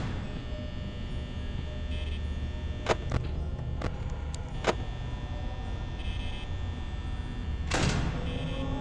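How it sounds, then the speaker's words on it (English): A few sharp mechanical clicks and thunks from a door closing in a Freddy-style horror game sound over a steady low electrical hum, with a louder swishing burst near the end and no talk. "Looks like I gotta close the door anyway."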